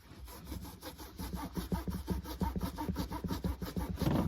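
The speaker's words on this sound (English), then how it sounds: "And then you rub it with a clean cloth." A clean cloth rubbed briskly back and forth over a vintage Louis Vuitton Alma PM bag, a close, soft scratchy swishing in quick repeated strokes that grows slightly louder toward the end.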